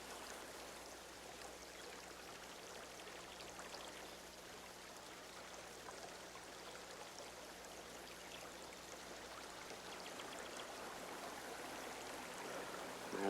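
A brook flowing steadily beside a mother and child in a wooded Puritan setting, a soft continuous broadband wash of running water with no breaks, quiet and even throughout.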